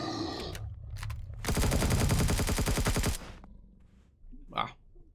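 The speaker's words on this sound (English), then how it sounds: "Shotgun." Rapid, loud burst of shotgun fire in the sci-fi survival game Empyrion Galactic Survival, a dense run of blasts lasting under two seconds, with a player's brief exclamations before and after.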